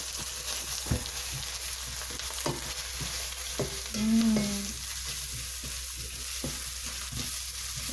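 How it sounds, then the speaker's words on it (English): Ground spices fry in a pan for cumin chicken, a constant close sizzle with repeated spoon scrapes and taps and a short tonal squeak partway through. "And then add in your grounded spice"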